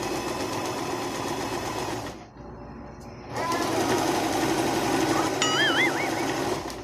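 A sewing machine stitches a pillowcase with a fast, close mechanical whir, pausing briefly midway before running again at full speed, while a faint voice speaks lightly under it.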